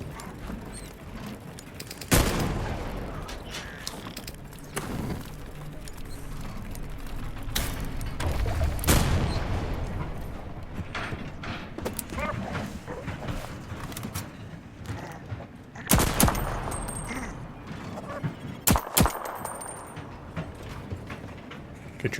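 Train-mounted turret guns firing in the survival game Voidtrain, sharp bursts of shots spaced a few seconds apart over a busy mechanical game background, with a few louder volleys standing out.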